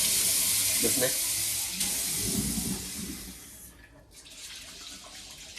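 Water runs and swishes over rice being washed by hand, a steady hissing rinse with brief stirring sounds. A soft voice speaks briefly near the end.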